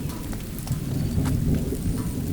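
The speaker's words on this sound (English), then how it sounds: "There's loads of thunder and lightning now." Rain pours steadily over an outdoor spot in Thailand while a low rumble of thunder rolls beneath it, all without voices.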